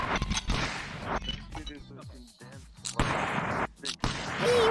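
Gunfire from a video game, with sharp repeated shots and bursts mixed with voices talking and exclaiming over the game audio.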